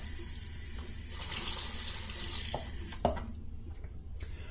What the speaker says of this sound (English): Get the razor wet, and let's get going.